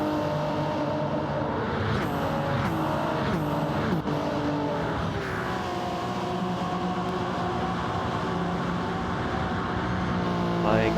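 Race cars screaming around Spa-Francorchamps in a racing game, several engines overlapping in a steady, loud drone with rising and falling pitch sweeps as cars pass, continuous throughout, with a commentator's voice faintly underneath.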